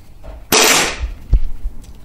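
KWA Magpul FPG gas airsoft submachine gun firing a single sharp, bright burst of rapid shots that cuts off quickly, very close and loud, followed by faint clicks and handling noise.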